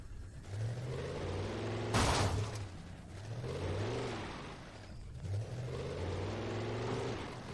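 A car in the video game Alan Wake drives past, its mid-range engine humming and revving steadily with a brief louder swell partway through, heard fairly close with no talking.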